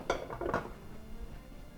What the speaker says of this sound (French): je vais mettre les casseroles